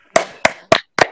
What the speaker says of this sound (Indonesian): kasih aplaus buat kelompok yang kedua ini